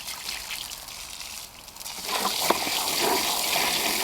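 Tap water runs into a modified ice-chest sink as a duck is washed, starting as a softer trickle and then turning into a louder, fuller splashing gush about halfway through, steady and close.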